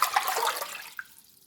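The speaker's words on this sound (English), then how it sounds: "And we're going to put another 4 cups of water" Water gushes into a cooking pot for mint tea, a close rushing pour that tapers off, followed by a small splash and quiet.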